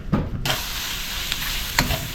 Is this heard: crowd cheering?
no